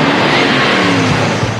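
A car arriving and driving up, a loud, close, steady engine roar with a slight rise and a faint skid-like squeal, heard alone.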